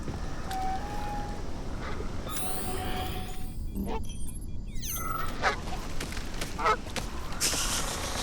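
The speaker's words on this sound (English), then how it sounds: "I'm a goose and I'm coming for yours." A goose from the video game Atomic Heart honks several times, loud and close, over a steady, noisy game background.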